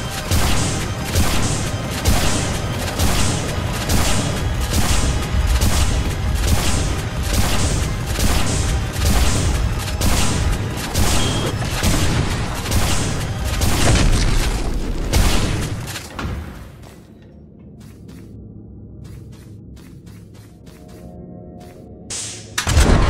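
Semi-automatic weapons firing in the Vomitoreum video game, a loud fast stream of booming shots for about fifteen seconds, then quieter and sparser with a few scattered shots near the end.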